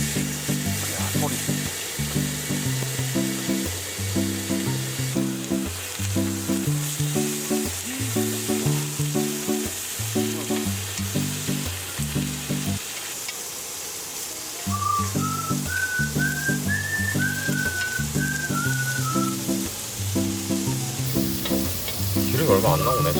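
Pork belly sizzling on a grill at a riverside campsite in Gapyeong, a steady close crackling fry running throughout, with rhythmic patterned background music and a brief whistle-like tone in the middle.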